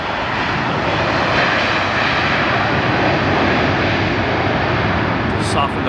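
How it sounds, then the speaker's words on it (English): A jet airliner landing at LAX adds thrust just before touchdown, its engines giving a loud, steady roar that holds without a break from start to finish and rises slightly as the thrust comes up. "puts the thrust up just prior to touchdown"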